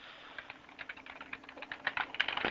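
Someone types on a computer keyboard to enter a Google search, with quick, uneven clatters of key presses coming close together and growing a little louder toward the end.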